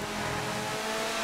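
Race car engine roaring steadily in a GTA 5 rallycross race on a home circuit, a continuous close, loud drone with faint tire noise and no pauses.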